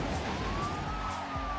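A fire truck siren wails steadily in Midnight Club 3 racing game, the tone rising slightly under a dense roar of engine and road noise, continuous and moderately loud throughout.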